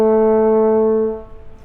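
French horn sounding the note E, a steady sustained tone with strong harmonics in one breath that fades out after about a second; the separate tongued attacks are not distinct.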